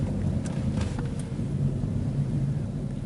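Low, steady rumble of an autonomous car driving itself along a path, its engine and road noise constant throughout with a few faint clicks, no talk.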